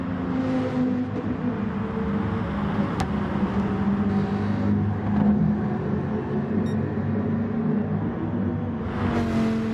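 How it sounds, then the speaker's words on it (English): A Dodge Viper race car at Brands Hatch during a Sunday Cup round, its engine a steady loud roar with a whining harmonic rising and falling as it overtakes, the noise holding throughout under continuous wind rush. "Overtaken there, like a absolute blur by one of the Dodge Vipers"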